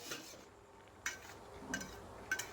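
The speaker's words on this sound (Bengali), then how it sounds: "ঢাকা তুলে নিলাম।" A lid is lifted off a cooking pot of boiling potatoes and pointed gourd, giving a few faint, light metallic clinks close by in a quiet kitchen.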